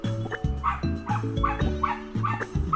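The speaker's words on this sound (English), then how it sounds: "If you can hear it, there's my dog again." A small Pomeranian dog gives a run of sharp, high yips and barks in a quick, repeated rhythm. It sounds close and fairly loud, with no talk.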